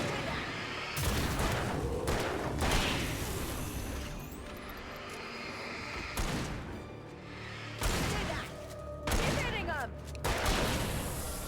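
Heavy bursts of gunfire ring out against enemies in Alan Wake, loud and close, coming in several clustered volleys with short gaps between them, and voices occasionally sound under the shooting.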